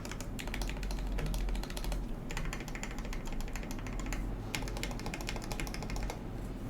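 Rapid, steady typing clatters on an acrylic Tofu65 mechanical keyboard build, with dense overlapping key clicks and a deeper thock from longer keys, loud and close throughout.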